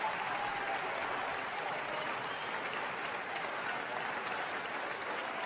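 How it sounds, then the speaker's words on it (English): Crowd applause and cheering fill a wrestling arena in the WWE 2K20 video game, a dense, steady roar of clapping that holds at a constant level throughout. "embracing these fans that are cheering him on"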